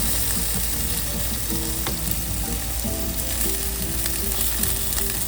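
Chicken thighs sizzle steadily on a Big Green Egg grill, a continuous loud frying crackle with a few faint scrapes and taps as the pieces are turned over; no talking.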